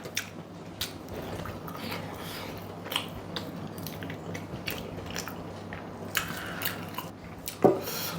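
Soft, close chewing of rice with chicken curry, with quiet irregular bites and squishy mouth sounds over a low background hum, and one sharper click near the end.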